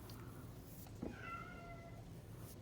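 A house cat gives one soft, faint meow indoors, drawn out and rising, over steady low background noise with no talk.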